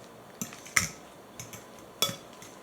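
Brown sugar is mashed into a banana muffin mixture with a utensil, giving four separated scraping clinks against a bowl, two of them sharper and louder, with quiet gaps between.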